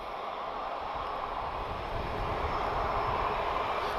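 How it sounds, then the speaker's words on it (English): An Osprey aircraft at Lisbon Airport produces a steady, heavy engine roar with a deep rumble, holding loud and constant throughout with no talking. "Osprey, that's an aircraft I've not seen for a long time."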